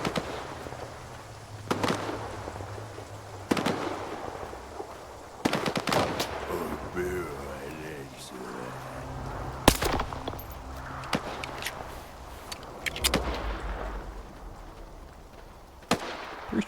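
Gunfire in STALKER 2: Heart of Chornobyl, with sharp single shots and short bursts cracking at irregular intervals over a low ambient rumble, punctuated by a few louder close blasts.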